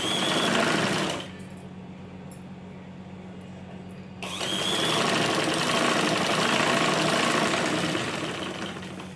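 A sewing machine whirs loudly while stitching a lining blouse, stops briefly, then runs again in a steady, close, continuous hum.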